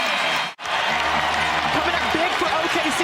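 Basketball crowd at Paycom Center during a Thunder–Suns NBA game, a broad steady roar of applause and cheering filling the arena, with a commentator talking over it and sneaker squeaks near the end.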